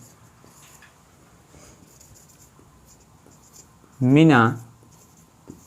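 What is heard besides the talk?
writing a sentence on a board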